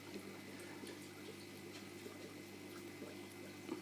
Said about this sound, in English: If you push it down, you'll see it starts filling up through the holes that you've made.